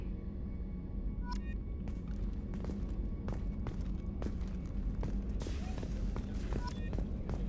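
Footsteps aboard the Normandy starship in Mass Effect 2 fall in a steady walking rhythm of soft, regular thuds over a constant low engine hum.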